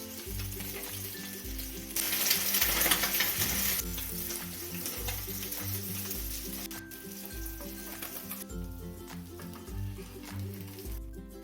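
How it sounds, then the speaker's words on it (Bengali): Rohu fish pieces fry in hot mustard oil in a kadai, giving a steady, close crackling sizzle throughout that swells louder for a couple of seconds, with faint background music and no talking. "লাল লাল করে মাছগুলোকে ভেজে নেবো আমি।"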